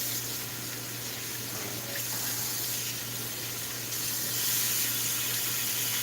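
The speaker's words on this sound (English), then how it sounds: "I'm going to handle this meat and wash it one more time" Tap water runs steadily into a sink while meat for German sauerbraten is washed under it, a constant close splashing hiss that grows slightly louder toward the end.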